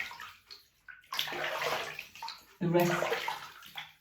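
Water splashes and sloshes in a basin while a cleansing melt is rinsed off, in uneven bursts that come close and then fall away, with a brief spoken word partway through.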